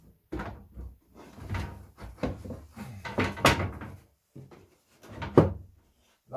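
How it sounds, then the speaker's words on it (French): A wooden cabinet door on furniture being built in a workshop is swung and closed, making a series of close, sharp knocks and thuds with short gaps between them. "la porte, il va se fermer comme ça"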